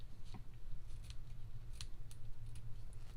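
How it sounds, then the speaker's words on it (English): Scissors trim paper tails from a handmade greeting card, giving a series of crisp close snips spaced unevenly over a few seconds against a low steady background hum, with no talk. "And now we're just going to trim off our tails"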